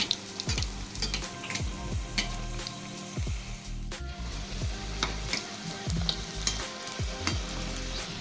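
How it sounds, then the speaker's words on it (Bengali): Coconut patties fry in ghee in a wok with a steady crackling sizzle, punctuated by repeated soft scraping stirs throughout. No voices are heard. "একটা কড়াই নিয়ে তারপরে একটু ঘি দিয়ে আস্তে আস্তে করে এটিকে ছেড়ে দেওয়া হবে এবং ফ্রাই করতে দিয়ে দেওয়া হবে"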